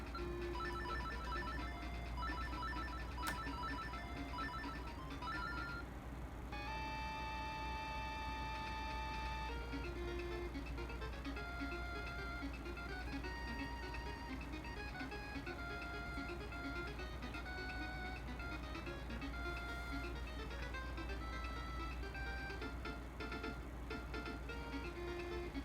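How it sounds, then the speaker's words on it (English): The classic Zelda theme from the video game Link's Awakening plays as bright, chiptune-like electronic melody lines over a steady low backing, continuous for the whole stretch with no talking. "Listen to that classic Zelda theme."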